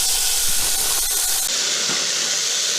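Pork searing in a Ninja Foodi gives a loud, steady sizzle and hiss that stays constant throughout, close up and alone without talk.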